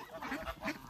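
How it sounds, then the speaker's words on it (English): A mother duck on a farm quacking in quick, close, nasal bursts, two or three calls within a second, with a faint outdoor background. "There's Mama Duck."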